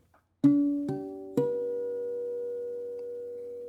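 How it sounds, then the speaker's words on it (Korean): Three bell-like harmonics plucked at the twelfth fret of an acoustic guitar, one after another, each ringing on with a clear chime and slowly fading, alone in quiet. "어쿠스틱 기타의 12플랫에서 나는 하모닉스 소리입니다"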